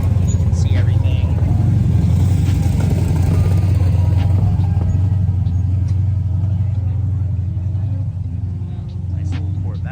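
A Chevrolet Corvette accelerating at a Cars and Coffee meet, giving a steady, loud engine rumble that carries throughout and fades slightly near the end, with people talking in the background.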